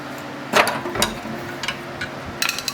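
Subaru Forester suspension parts are pried apart during a coilover install on a 2006 model, giving a few sharp metallic clicks and knocks spaced irregularly over a quiet shop background.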